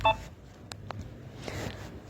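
A phone sounds in the background of a home kitchen while dough is being kneaded with cold water: a short burst of electronic tones, then a couple of isolated beeps and faint rustling, quiet and distant.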